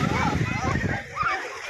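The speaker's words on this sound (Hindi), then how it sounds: "बुज़ुर्ग इतने उम्र वाले श्रद्धालु भी इस समुद्र में डुबकी लगाने के लिए बेताब" Pilgrims bathing in the sea at Rameswaram splash and slosh in the water close by, with voices chattering over the steady splashing that thins out toward the end.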